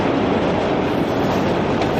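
A train rolls steadily past in Rocky II, a loud continuous rumble and rush of railcars with faint clickety-clack, close and filling the scene.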